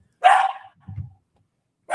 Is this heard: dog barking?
yes